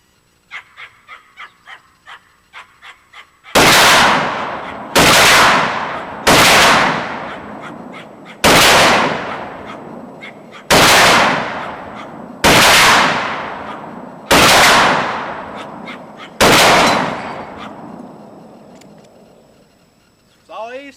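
Eight loud, sharp rifle shots from an M1 Garand ring out at uneven intervals, each with a decaying echo. A quieter series of clicks and small taps comes first, and the rifle fires after jamming trouble has been fixed.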